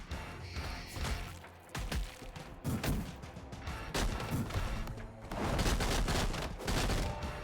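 Bursts of rapid video game gunfire crackle in dense volleys with brief pauses between them, loud and close, with no talking.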